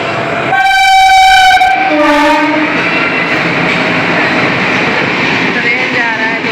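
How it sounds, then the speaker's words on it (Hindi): Chhapra to Siwan passenger train passing close by, a loud sustained horn blast followed by a shorter one over a heavy rolling roar of wheels on rails. "ट्रेन आ रहा है दोस्तों, आप लोगों को दिखाते हैं।"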